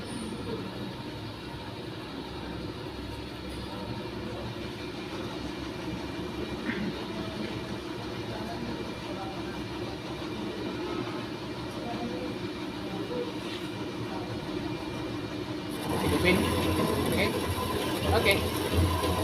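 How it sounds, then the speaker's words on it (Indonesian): A milling machine cuts metal with coolant running in a polytechnic workshop: a steady, low, rumbling mechanical drone that swells noticeably louder and brighter near the end. "Lalu hidupkan tombol on dan turunkan pemutar hidrolik secara perlahan dan nyalakan juga coolant-nya."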